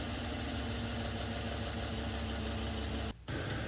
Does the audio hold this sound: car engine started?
yes